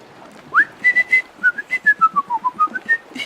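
A person whistles a tune in a fairly high register: a rising swoop, then a run of short, clear, separate notes that step down and climb back up, close and alone.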